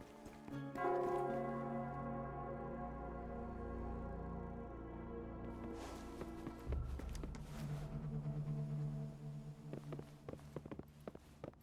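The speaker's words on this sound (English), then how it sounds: "it's the Nell Squares bell" The Nell Square bell in the video game Wuthering Waves rings with sustained, resonant tones that hang in the air, followed later by lighter clattering steps and movement.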